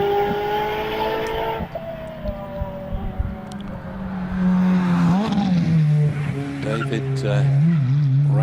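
A Ferrari 430 race car climbs the Harewood hillclimb course, its engine loud and close, pitch rising and falling through gear changes as it passes, with a commentator talking over the top.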